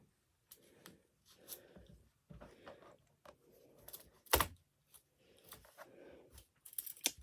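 Scissors cut through fabric for a hot water bottle cover, close, crisp snipping strokes in short bursts with pauses between them, and no voices.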